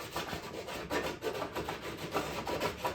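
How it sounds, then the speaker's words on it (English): A nail board is rubbed back and forth across model railway track in quick, steady, close-up abrasive strokes that keep a regular scraping rhythm. "all I do is just hold it on the top and just give it a rub until the track shines through"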